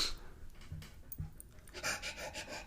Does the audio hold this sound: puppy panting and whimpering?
yes